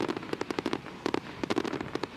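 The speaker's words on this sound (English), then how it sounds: "Fireworks guys just pressing every button they've got on the controller, emptying the tank" A fireworks finale at a ballpark, with a rapid barrage of sharp cracks and bangs fired in quick overlapping bursts, dense and loud against the distance.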